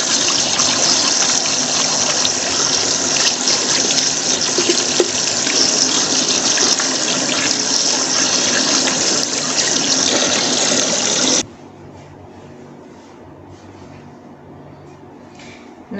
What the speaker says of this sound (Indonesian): Kemudian kita melakukan cuci tangan